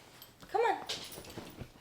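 A puppy gives a short, high whimpering yelp near the middle, close and fairly clear, with soft voice sounds and room noise around it.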